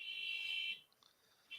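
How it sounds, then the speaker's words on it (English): A car alarm goes off outside, a steady high electronic tone that holds, cuts out and briefly restarts, heard faintly at a distance with no talk over it. "Can you guys hear that stupid car alarm going off?"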